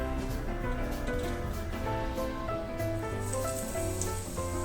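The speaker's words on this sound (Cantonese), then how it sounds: "熱油將啲蒜蓉同埋薑蓉灼熟佢" Hot oil, heated until it smokes, sizzles over raw minced garlic, ginger and shredded ginger in a steady, dense crackle that runs through the whole clip.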